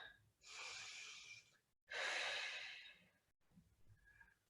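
Slow, deep breathing during an extended hand to big toe yoga pose: two long, close, airy exhales separated by brief pauses, followed by a quieter, shorter breath.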